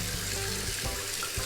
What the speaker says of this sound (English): so just take it off with some warm water